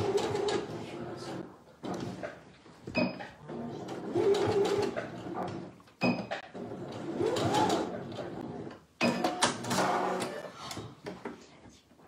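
A sewing machine stitching forward and backward on baby slippers, running in several whirring bursts separated by short pauses and small mechanical clicks.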